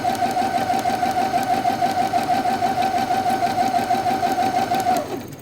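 A sewing machine stitches fabric in a fast, steady mechanical chatter with a bright whirring tone, close and loud for several seconds before stopping abruptly.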